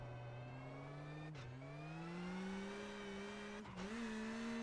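A Rally1 car at full throttle on the SS13 Tarzan stage of the 2023 Acropolis Rally in Greece. The loud, close engine note climbs steadily, broken by two brief gear-change dips. No voices.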